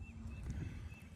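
Donkeys approach with a soft clatter of hooves under a steady background hum, moderately close and faint.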